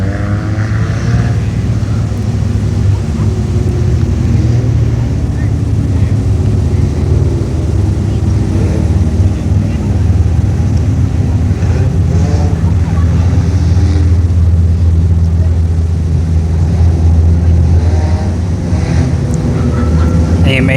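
Hornet-class race cars roaring around the Brownstown Speedway dirt track in a heat race, a steady loud engine drone throughout with a crowd and track-side ambience behind it.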